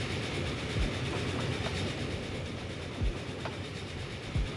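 Freight trains rolling on rails in the Transport Fever 2 simulation game give a continuous rumbling wash with faint rhythmic clicks of wheels over joints and a few soft thumps, moderately loud and unbroken, with no voices.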